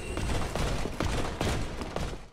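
Gunfire from a firearm in Dark Souls 3, a rapid run of sharp shots spaced roughly every half second, loud and close over a busy background.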